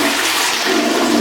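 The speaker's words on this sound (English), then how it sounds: "The toilet doesn't flush properly." A hotel toilet in Tunisia that does not flush properly makes a loud, close, continuous rushing of water throughout.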